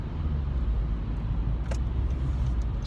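A car rumbles past on the road with a steady low roadway drone, fairly loud and nearby, with no voices.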